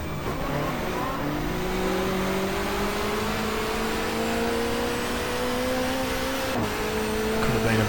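A touring car engine held in second gear on a street circuit in the GTR2 racing game drones loudly and steadily, pitch climbing gradually, then a brief sharp knock and a shift near the end.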